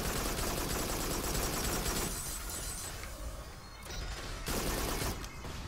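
Machine gun fire in the Farpoint PSVR video game, dense rapid bursts with shattering impacts, loud and continuous, briefly dropping off mid-way before resuming.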